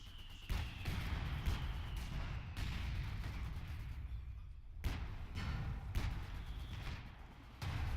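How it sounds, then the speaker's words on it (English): In a WWII strategy game battle, an anti-tank gun fires sharp booming shots several times amid a continuous din of combat, each blast cutting through dense background gunfire and explosions. "Oh, AT gun opens up."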